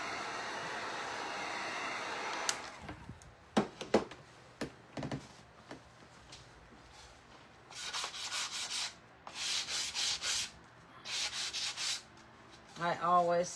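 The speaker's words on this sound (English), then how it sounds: "I always sand my board because I don't like the grain to come up." A wooden board is sanded smooth by hand, with several bursts of scratchy rubbing strokes in uneven rhythm, broken by brief knocks and pauses, close and fairly quiet.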